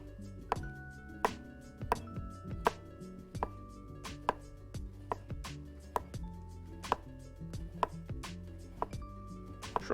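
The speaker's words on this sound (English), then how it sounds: "I'm going to cut this by hand, so, yeah, we can just start slicing it" Vegetables sliced by hand with a sharp kitchen knife for samosas, a steady run of crisp, close blade strikes on a cutting board with an even rhythm, alone without talk.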